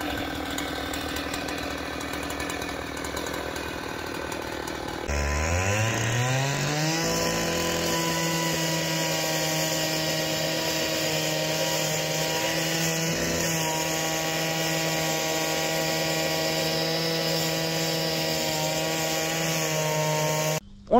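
An angle grinder cuts through a wall: after about five seconds of quieter background, it spins up with a rising whine and holds a loud, steady, harsh grinding tone to the end, with no talk.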